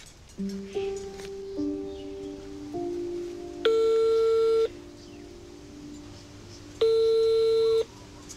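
A telephone call to the mayor goes unanswered: a few short dialing beeps and tones, then two long, loud electronic ring tones separated by a quiet gap.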